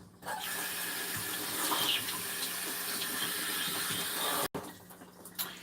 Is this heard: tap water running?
yes